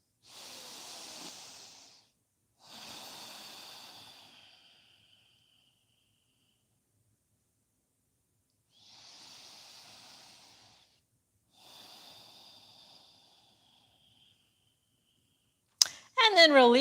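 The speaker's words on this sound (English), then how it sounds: "Inhale and exhale through your nose." Slow breaths in and out through the nose during a yoga session, four soft airy hisses in evenly spaced pairs separated by silence, close and quiet, ending with a brief sharp noise.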